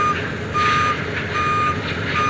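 Reversing truck beeping repeatedly at a crowded shipyard port, evenly spaced alarm tones riding on a dense background roar of harbor machinery.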